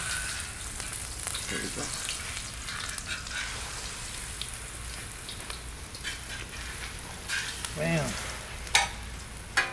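Chicken chile rellenos with Monterey Jack cheese and green chile frying in oil on a griddle, a steady close sizzle throughout with scraping spatula taps near the end while someone speaks briefly.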